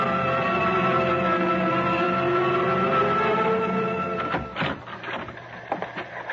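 A teletype machine in a radio drama clatters steadily with a dense mechanical chatter, then breaks into uneven rattles and knocks toward the end.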